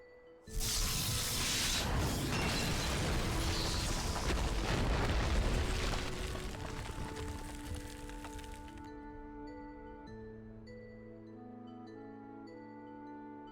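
Ancient sculptures being destroyed in Final Fantasy XIV: a sudden loud blast of crashing, crumbling debris that rumbles for several seconds and then fades into a quiet tonal musical backdrop.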